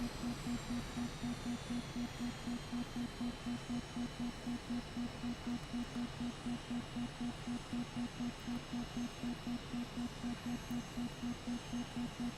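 An Aermacchi MB-339 jet in Microsoft Flight Simulator 2024 runs at reduced power on descent. The engine gives a steady whine and rumble, faint and even, with a slow regular pulsing throughout.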